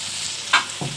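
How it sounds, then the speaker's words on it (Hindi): Peas and cubed potatoes frying in a pan, a steady sizzle with a sharp scrape of stirring midway and a soft knock near the end. "अब हम इसको अच्छी तरह मिक्स करके इन सारी वेजिटेबल की ना भुनाई करते हैं।"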